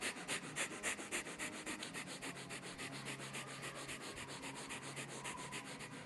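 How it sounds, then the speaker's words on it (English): Breath of fire yoga breathing in boat pose, a rapid steady series of sharp forced exhalations through the nose, about four to five per second, close and continuous throughout. "Ardha Navasana, breath of fire."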